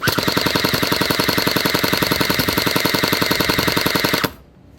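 A WELL M401 toy gel blaster firing on full auto, a loud, rapid, evenly spaced mechanical rattle that runs for about four seconds before stopping abruptly.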